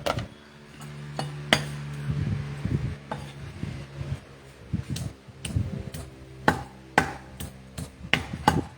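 A knife cuts through a chicken heart on a kitchen board, giving a run of sharp, irregular taps and chops close by, mixed with clinks of dishes and utensils over a low steady hum.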